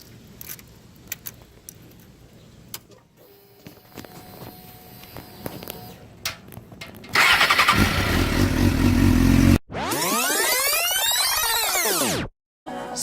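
A motorcycle gets ready and rides off. Keys jangle and footsteps shuffle, then the engine fires loudly and runs rough and close. It revs in rising and falling sweeps, drops out for a moment, then picks up again.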